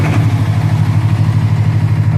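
A 15 kVA generator engine runs steadily with a loud, even low throb and a regular mechanical pulse, heard close up and without voices.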